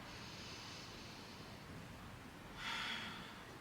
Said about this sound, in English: One more big deep breath here.